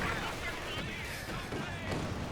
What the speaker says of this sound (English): T-70 avoiding pack gun shots.